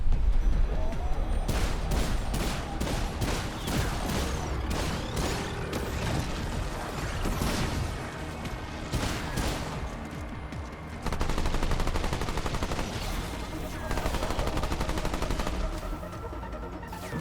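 Rapid, repeated bursts of gunfire in the video game Remnant 2, loud and dense throughout, with sharp volleys layered over a busy backdrop of game effects and no talking.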